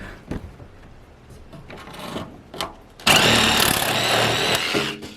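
Inside an abandoned bus, a few scattered knocks and scrapes give way to a loud, continuous buzzing cut that runs steadily for about two seconds, close and harsh.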